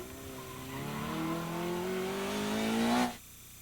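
A car rounds a pylon on a late-apex line, its engine rising steadily in pitch under acceleration before cutting off abruptly, heard from a moderate distance with no voices.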